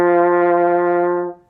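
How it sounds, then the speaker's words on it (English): A French horn sustains a single note C, rich in harmonics and steady in volume, then fades out near the end, played solo with no talking. "the more comfortable note for you is the C, which again sounds like this"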